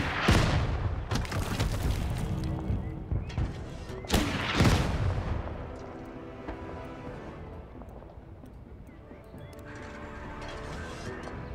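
Heavy tank cannon rounds boom in a World War II strategy game battle for Berlin in April 1945, two loud broadband blasts about four seconds apart followed by rumbling mechanical battle noise that fades lower.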